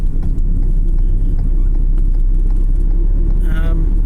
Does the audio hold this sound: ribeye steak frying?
no